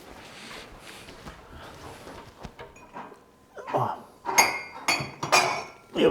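Cups and dishes clinking in a kitchen while coffee is made for breakfast, a run of sharp ceramic and cutlery knocks growing louder and more frequent toward the end, close by.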